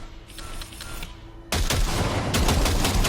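A long, rapid burst of automatic gunfire in the video game Cyberpunk 2077 erupts loud and close, a dense continuous rattle of shots with heavy low thumps, preceded by a quieter stretch of lighter mechanical clicking.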